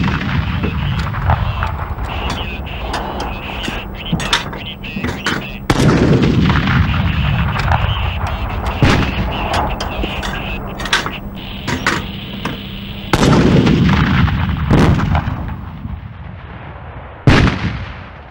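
Rifled 2R2M 120 mm mortar firing in the field: a series of loud, sharp booming reports at irregular intervals, each with a rumbling tail, over continuous background noise.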